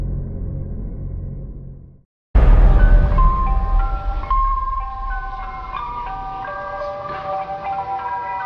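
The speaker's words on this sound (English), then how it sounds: "one thing I always enjoyed in the summertime was the ice cream truck" After a low rumble and a brief gap of silence, the tinkling melody of an ice cream truck jingle plays clearly over a deep engine hum.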